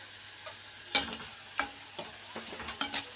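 Onion pakoda batter frying in hot oil, with scattered soft crackles and a few sharper pops over a low, steady background, fairly quiet and close.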